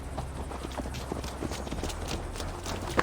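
Horse hooves clip-clopping steadily during a ride in Assassin's Creed Valhalla, a brisk even gait held close under a low ambient bed.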